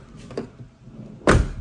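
A 2007 Isuzu Panther Grand Touring car door swings shut once with a solid, close thud after a brief faint creak of movement.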